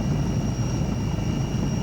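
Helicopter carrying a chief minister on an aerial survey over flood- and landslide-hit Uttarkashi, heard as a steady, continuous rotor and engine drone with a sustained high whine, loud and unbroken throughout.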